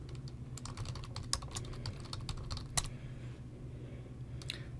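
Fingers typing an email address on a computer keyboard: a quick, irregular run of crisp key clicks, close up with a couple of louder strikes, and no talking.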